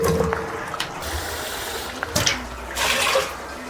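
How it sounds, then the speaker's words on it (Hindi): Water is poured into a pot of daal gosht curry with yogurt, a soft splashing trickle in a few short pulses against quiet kitchen background, no talking. "मुझे जितना चाहिए मैं उतना ही पानी डालूँगी, जितना मैं रखूँगी शेरवा।"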